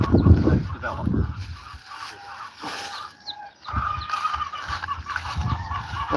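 Chickens and a rooster cluck and call in a poultry yard, the bird sounds rising in bursts close by between quieter gaps, with a voice briefly present.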